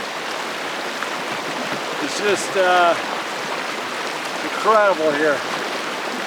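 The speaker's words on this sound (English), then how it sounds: "Just taking a little break on the river." A river near Palisade Glacier rushes steadily in a broad, continuous wash of flowing water, with someone talking briefly over it.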